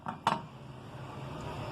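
A metal lid set onto a cooking pot of chicken pulao gives two quick clanks close by, the second louder, followed by a low steady kitchen hum with no talking.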